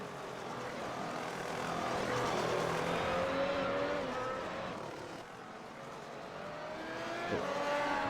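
Several F1 race cars circling Indianapolis in the iRacing sim, engines droning and whining continuously, with pitch sweeps as the cars pass and shift, loud and steady throughout.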